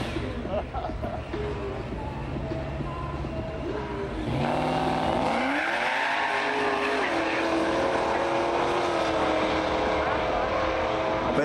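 Drag racing cars launch down the strip at a DHB 2017 event, engines roaring loud and near before a rising howl as they pull away, with an announcer talking over the noise.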